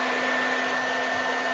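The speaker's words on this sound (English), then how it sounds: "There's the blow dryer too." A blow dryer runs steadily and loudly, drawing power from a Peppi mini Q6 unit; its even whooshing roar carries a constant high whine and holds throughout with no voices.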